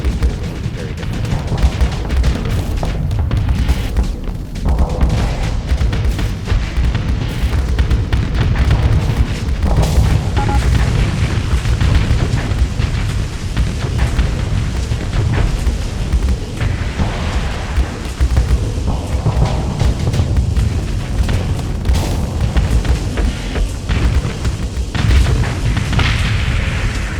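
Continuous, loud booming of hypervelocity weapons fire and explosions from a space battle in Starsector, dense overlapping blasts rumbling throughout with no clear pauses and no talking.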